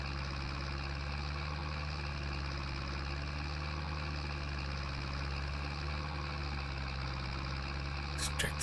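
Tractor engine in the Farming Simulator 22 game, a steady droning hum with layered tones running evenly throughout, ending with a brief clicking at the close.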